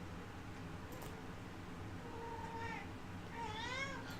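A pet cat meows in a run of rising, wavering calls near the end, faint against a steady low background hum, with a shorter mew just before.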